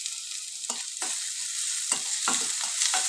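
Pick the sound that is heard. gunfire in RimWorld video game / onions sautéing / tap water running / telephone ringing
onions sautéing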